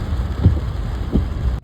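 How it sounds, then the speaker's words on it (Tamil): Heavy rain pouring in Mumbai, a dense steady wash with a deep low rumble underneath, loud and unbroken, with no voices. "பயங்கரமான மழை ஸ்டார்ட் ஆகிடுச்சு."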